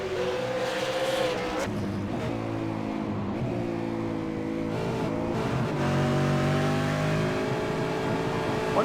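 V8 Supercar race cars scream around Road Atlanta in a racing video game, with sustained high-revving engines shifting pitch, gear changes and occasional tire squeal, loud and continuous without talk.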